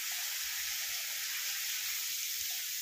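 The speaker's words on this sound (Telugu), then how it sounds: "బూందీ అయితే దూసుకోవటానికి ఆయిల్ పెట్టాను" Boondi batter fries in hot oil with a loud, steady, close sizzle and crackle that fills the whole stretch without pause and without any voice.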